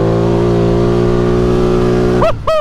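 Polaris four-wheeler engine revving hard on pavement, a loud, close, steady throaty drone rising in pitch, then two quick sharp rev spikes as the throttle is blipped.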